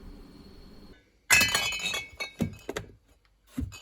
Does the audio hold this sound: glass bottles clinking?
yes